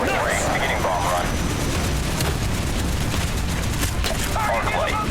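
Rumbling explosions and crackling gunfire fill a Call of Duty: Black Ops battle set in Vietnam during a bomb run, a loud, constant barrage with radio-style voices talking over it.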